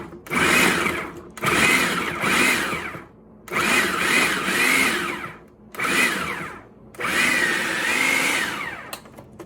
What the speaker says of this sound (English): we're going to take these vegetables over to the food processor and pulse them up nicely